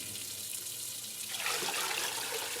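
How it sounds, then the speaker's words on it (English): Warm water runs from a faucet into a basin, starting after a quiet moment as a steady, close hissing stream that fills the rest of the clip without any voices. "The faucet hissed to life, spilling warm water into the basin."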